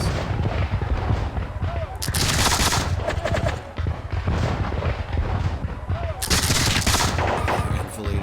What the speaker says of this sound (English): now I've got enfilading fire on these poor chaps